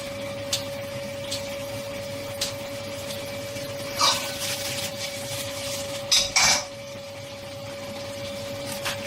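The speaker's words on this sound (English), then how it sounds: "We just roughly chop them up." Sausages are roughly chopped with a knife on a board in a home kitchen, several scattered taps and clacks over a steady appliance hum, without speech.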